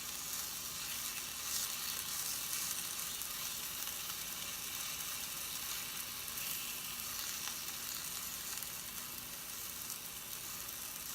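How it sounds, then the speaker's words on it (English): A small spoonful of ground turkey for a burger patty fries in a hot pan, an even, continuous sizzle that stays faint and steady from start to finish with no talking. "So start with the hot pan, and then I'm just going to take like a teaspoon of the turkey and put it in there."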